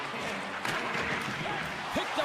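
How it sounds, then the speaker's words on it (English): Arena crowd noise swells steadily through an ice hockey video game broadcast, a broad continuous roar with a faint sharp knock partway in, while a commentator's voice runs over it. "You can feel the energy in this crowd"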